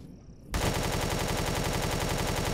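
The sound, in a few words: enemy turret firing at the player in video game Empyrion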